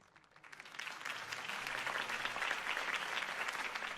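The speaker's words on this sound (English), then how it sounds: "If only Mr. Wayne, my campaign's largest backer, could have heard that applause" Crowd applause follows a campaign speech by Harvey Dent in a Batman Telltale video game, rising from quiet into steady, dense clapping that holds loud for several seconds with no talking over it.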